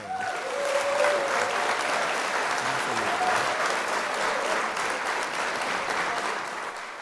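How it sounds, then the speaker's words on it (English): Sustained audience applause for Lil Wayne during a talk show episode, steady dense clapping filling the whole stretch at even loudness, with a voice briefly audible beneath it. "So again, clap it up for Lil Wayne."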